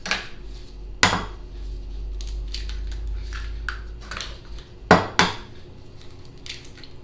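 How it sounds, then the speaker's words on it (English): Eggs being cracked for a lemon pie: several sharp taps of shell against a bowl rim, with a paired double knock near the end, close and clear over quiet kitchen clatter. "now you want to just crack your 4 eggs and leave them here"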